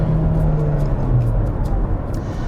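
Engine drone of a 2017 Toyota RAV4 Limited accelerating on the road, a steady low rumble with a slight pitch shift as the transmission changes gear, heard from inside the cabin.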